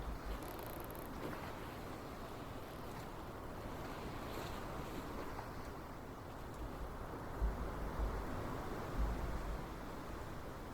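Sailboat cruising slowly at around four knots across modest waves in Sailwind, with a steady wash of water and wind rushing past the microphone, continuous and fairly even, with a few slightly louder swells toward the end.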